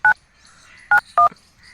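Three short keypad tones from a telephone number being dialed, the second and third close together, crisp and near in an otherwise quiet room.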